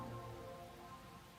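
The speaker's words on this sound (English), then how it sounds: "More rain." Rain from the video game Master Detective Archives: Rain Code, a faint, steady patter and wash of falling rain with a low rumbling undertone, continuous and without voices.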